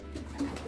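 Soft, low cooing of pigeons sounds close by inside a racing pigeon loft, steady and unbroken for a brief moment.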